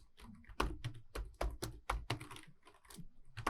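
Code typed on a computer keyboard, crisp irregular key clicks and clacks in quick bursts with short pauses, close and fairly quiet.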